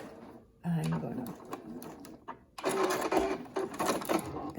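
Sewing machine stitching a fabric face mask, running in short bursts with a brief back-and-forth lock stitch, close and fairly loud, mixed with a person talking.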